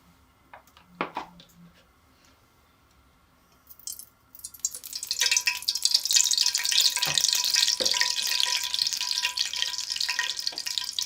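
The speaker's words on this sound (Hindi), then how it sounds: "एक कप हमने डाल दिया ऑयल का, एक बड़े साइज का प्याज, लाइट ब्राउन करेंगे" Onion frying in a cup of oil for chicken yakhni pulao, starting with a few light clinks and stirs, then a loud, steady sizzle that holds to the end.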